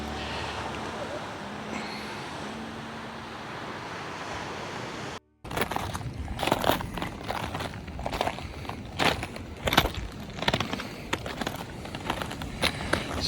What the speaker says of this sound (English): So lava rock crunches good under your feet when you walk on it.